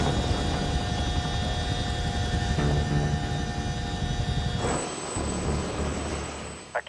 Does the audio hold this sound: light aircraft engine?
yes